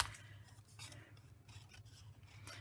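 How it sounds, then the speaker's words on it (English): Scissors snip paper butterflies in a string of quiet, close cuts and rustles, faint and irregular, with no talking. "Here's the butterflies. We're going to be cutting those out next."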